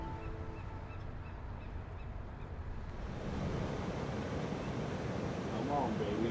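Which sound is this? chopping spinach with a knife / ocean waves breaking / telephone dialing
ocean waves breaking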